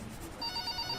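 A telephone rings inside the video game Clam Man, a faint repeating electronic trill that enters partway through over a low, steady background hum.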